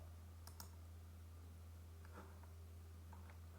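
A computer mouse clicking on a Next button, heard as a couple of quick faint clicks over a low steady hum, followed by a few softer ticks.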